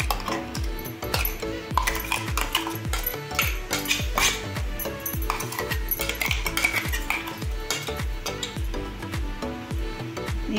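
Ground green chili paste is stirred into sour buttermilk with a spoon that clinks and scrapes rapidly and rhythmically against the vessel, close and busy, with no talk.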